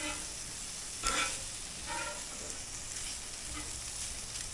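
Shrimp sizzle on a Traeger Flatrock griddle with a steady, close frying hiss, and brief bursts of louder crackling mark where the pieces are flipped.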